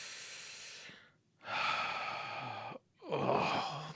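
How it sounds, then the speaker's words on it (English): Two long, close breaths, each a soft airy rush with a short silent gap between, the second drawn in more deeply and audibly. "Nice big deep breath."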